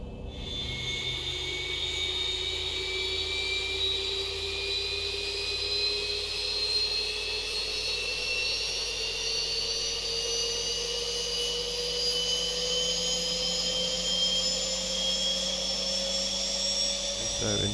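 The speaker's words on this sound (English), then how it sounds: "we'll go ahead and start engine number 2 now" Engine number 2 of a Zibo-modded jetliner spools up in X-Plane 11, with a steady roar and whining tones that rise slowly in pitch throughout, loud and continuous with no talk.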